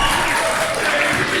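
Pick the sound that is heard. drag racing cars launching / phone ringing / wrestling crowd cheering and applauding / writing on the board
wrestling crowd cheering and applauding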